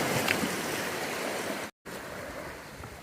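Waves wash against the Lake Superior shoreline in a steady, broad rushing surge, with a brief gap of silence partway through.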